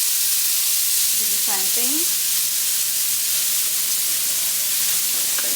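A seasoned steak sears face down in hot steak fat oil, a loud steady sizzle filling the whole stretch, with someone speaking briefly over it.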